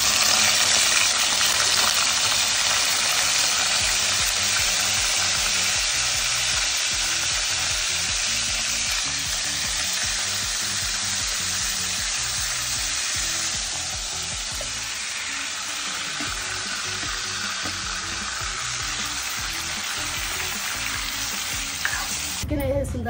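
Marinated chicken for lemon chicken fries in a pan, a loud, steady sizzle that runs on and on, with the scrape and clatter of stirring close by and no talk.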